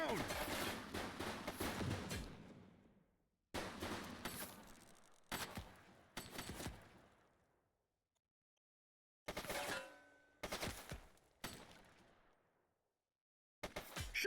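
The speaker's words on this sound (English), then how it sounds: "Shots fired!" Gunfire in the video game Precinct: sharp bursts of shots and rapid volleys with echoing decay, separated by short silences, loud and close.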